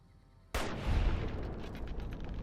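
A single sniper rifle shot in Fallout New Vegas cracks suddenly out of near silence, followed by a long, loud rumbling echo that slowly fades.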